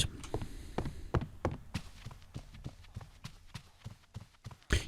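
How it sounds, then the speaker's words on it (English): Footsteps from a Minecraft sound mod that gives different footstep noises on different blocks, a series of distinct thudding and tapping steps at a walking pace, close and fairly clear, with no talk over them. "I'm testing out a sound thing that gives you different footstep noises when you walk over things"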